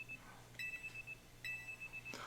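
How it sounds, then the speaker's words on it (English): An alarm clock sounds in the video game Pokémon Legends Z-A, giving a few faint, thin high beeps in short bursts over a low steady hum. "then our alarm is going to sound off"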